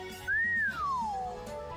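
Whistling from a character in the video game The Legend of Heroes: Trails Through Daybreak, a single clear gliding note that rises, holds, then slides down over about a second, heard alone over a faint background.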